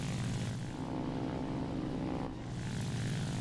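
Steady loud droning roar of the rear-mounted pusher engine of a J7W1 Shinden fighter in War Thunder, continuous and close with a brief dip in intensity partway through.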